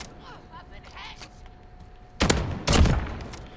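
R9-0 shotgun firing in the Modern Warfare video game: two loud, sharp blasts close together in the second half, after a quieter stretch with a voice-like murmur.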